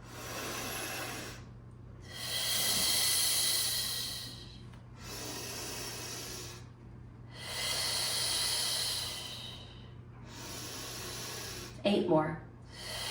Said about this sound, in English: So it's inhale to relax and then exhale to pull.